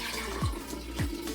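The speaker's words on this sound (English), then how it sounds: "we're gonna go ahead and pour this into whatever container you wanna store your yogurt in" Homemade yogurt-and-milk mixture is poured into a storage container, giving a soft, steady liquid trickle with two brief gurgles; the pour is quiet and close, with no talking.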